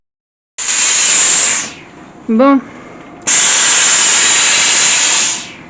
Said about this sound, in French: Oui, il y a de la vapeur.